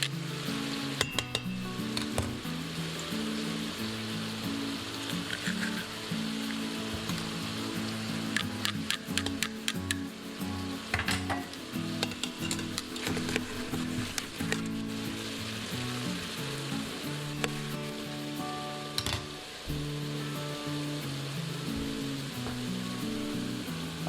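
Meat browns in an Instant Pot, stirred now and then: a continuous dense sizzle and crackle of frying with occasional scraping from stirring, steady and close, with no talking.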